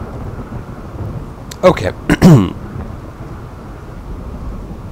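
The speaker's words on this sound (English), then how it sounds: "Man, this sounds really loud. It's quite a ferocious storm." A ferocious thunderstorm with rain in the colony game RimWorld: steady rain hiss underlies a few sharp, loud thunder cracks and a rolling rumble midway, with a brief spoken word over it.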